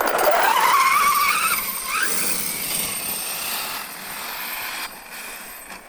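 An SCR PRO 12S RC car whines past, its motor pitch climbing sharply before fading into a duller, weaker hum as the car draws away and loses power.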